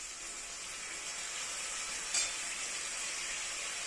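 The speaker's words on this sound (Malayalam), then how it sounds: "ഇനി ഇതിനകത്ത് ഞാൻ തക്കാളി ഇട്ട് കൊടുക്കുകയാണ്" Chopped tomatoes going into a pan of frying onions and green chillies, producing a steady, fairly quiet sizzle with a continuous bright hiss and one small pop midway.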